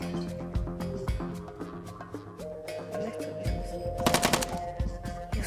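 Rapid-fire gun shooting in quick bursts of sharp cracks, with a dense stuttering volley near the end, heard over a background of tonal hum and clatter.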